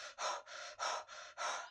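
Slow, steady breathing heard up close, with three deep breaths each drawn in and let out in an even rhythm, soft and airy with nothing else in the background.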